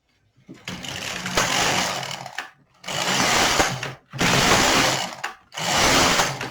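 LK 150 knitting machine fitted with the LE W weaving attachment works several rows: four loud rasping carriage passes, each about a second and a half long, separated by brief quiet pauses, close up with no talking.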